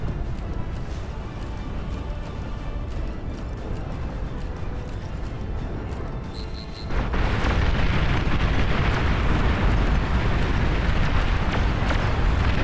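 A massive explosion in a video game battle marks the destruction of an enemy commander. A steady rumbling din suddenly surges into a loud, sustained, roaring blast that fills the rest of the moment.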